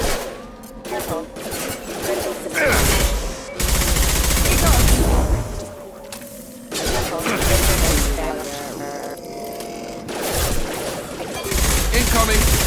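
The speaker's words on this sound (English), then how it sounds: "I'm taking fire!" Gunfire rattles through a Mass Effect 2 firefight in loud, dense bursts of automatic shots and booms that come in waves, with voices calling out over the shooting.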